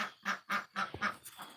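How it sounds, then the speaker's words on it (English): Several Khaki Campbell runner ducks in a coop give a quick burst of raspy quacks, around five loud calls close together, then fading to softer ones. "They're back there quacking it up."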